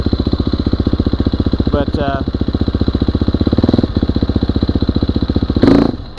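A cold motorcycle engine, set up with a Rekluse auto clutch, idles with a steady loud chug, gets a quick throttle blip and then stalls out, under brief speech.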